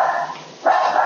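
Two dogs bark in a quick burst, two barks heard close and loud with a brief dip between them.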